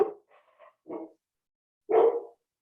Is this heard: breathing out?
no